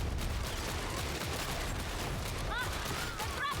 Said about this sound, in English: I'm just looking for silhouettes in the darkness and shooting them with the last pistol.